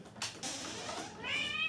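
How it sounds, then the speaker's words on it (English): A house cat meows insistently, a rising tonal cry near the end that follows rustling and handling noise, close by with no talking. "Gosh, this cat. She wants in, she wants out."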